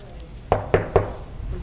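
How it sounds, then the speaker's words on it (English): Three sharp knocks on a door, evenly spaced about a quarter second apart, close and crisp over a quiet room background. "I just knocked on the door."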